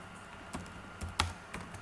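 Computer keyboard keys clicking while code is written, a few separate sharp taps spaced irregularly over a quiet, steady background.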